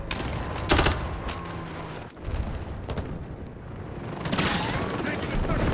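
Gunfire in Modern Warfare multiplayer comes as sharp rapid bursts and single loud cracks over steady battlefield noise, with heavier volleys at the start and again near the end and a short lull midway.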